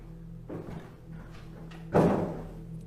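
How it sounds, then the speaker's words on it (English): A door shuts with a single dull thud, close by in a quiet indoor space with a low steady hum, after a few softer knocks and rustles. "That door just shut."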